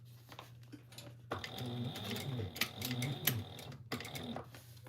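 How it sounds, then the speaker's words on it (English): A sewing machine top stitches an eighth of an inch along the folded edge of a fabric top band, giving a quiet rapid rhythmic whir in short bursts with brief pauses and a soft hum underneath. "we're going to top stitch right along this folded edge of the top band at 1/8 of an inch"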